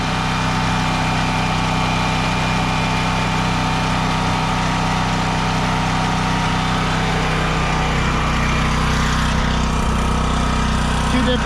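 A portable generator engine runs at a steady idle, producing a loud, continuous, close-up drone with no change in pace and no voices over it.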